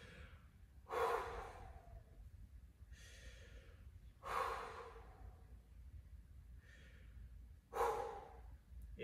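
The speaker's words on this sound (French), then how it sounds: "tu décides de faire 3 inspirations et expirations avant de partir sur les pompes" Three deep, heavy breaths taken after a set of tuck jumps in a home workout, each a loud, close, gasping exhale spaced a few seconds apart with quieter inhales between, no talking.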